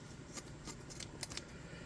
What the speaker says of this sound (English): let me get some scissors. We'll cut off a sleeve from the shirt.